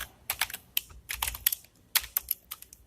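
Program code being typed on a computer keyboard: quick irregular bursts of crisp key clicks, close and fairly quiet, with no talking.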